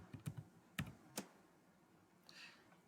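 A student's name being typed on a computer keyboard into a Google Form, a few quick soft key taps in a short burst, then quiet with a faint swish near the end.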